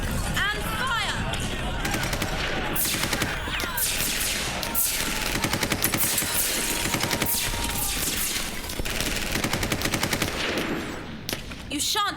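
Audio-drama battle gunfire against Daleks, dense bursts of rapid automatic shots and blasts layered over a continuous loud roar of combat, with sustained rattling volleys running nearly the whole time.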